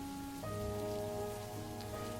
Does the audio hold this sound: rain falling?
yes